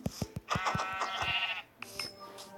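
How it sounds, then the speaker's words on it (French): Sheep bleating in the Minecraft video game, a couple of wavering nasal bleats up close after a few sharp clicks, with a shorter bleat trailing at the end. "un mouton"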